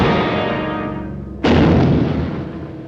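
Torpedo striking a ship in a 1951 submarine war film: a low rumbling continues, then a sudden loud broadband blast erupts and decays into a long roaring explosion.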